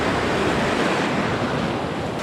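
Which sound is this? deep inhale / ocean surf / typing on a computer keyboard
ocean surf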